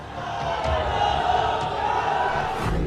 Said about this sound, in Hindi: रैली में एक साथ हजारों की भीड़ भी है।